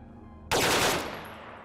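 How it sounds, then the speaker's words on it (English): A single loud AKM rifle shot cracks in the zombie video game Dead Matter, breaking a near-silent moment and then decaying over about a second. "AKM should sound good, right?"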